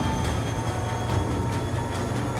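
Passenger train locomotive under way toward Moosonee, with a steady, loud engine drone and rumbling rail noise, heard from on board with no voices.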